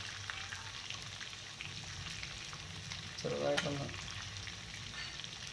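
Chicken pieces frying in a pan for a chicken roast, a steady crackling sizzle with a brief clattering stir midway; a voice speaks briefly over it.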